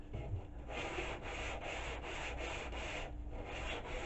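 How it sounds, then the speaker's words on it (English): Wood is sanded by hand in long strokes along the grain, a continuous close scratchy rubbing with light pressure and no speech. "So sand a little bit, and then take a rag and just wipe it off"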